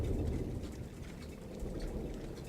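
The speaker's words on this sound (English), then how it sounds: "Hey, I heard some thunder." Steady rain pours in the game Firewatch, a dense low rumble that may hold distant thunder, continuous and fairly loud, with no voices.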